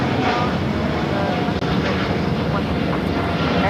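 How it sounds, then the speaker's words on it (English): Air Premia Boeing 787-9 Dreamliner jet taking off at LAX toward Seoul, a steady broad engine roar holding loud and constant throughout. "This is Air Premia 102 taking off to Seoul on the 787-9 Dreamliner."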